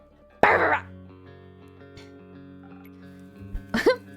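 A human voice imitates a dog, giving one sharp, loud bark, then a short pause and another quicker yapping bark.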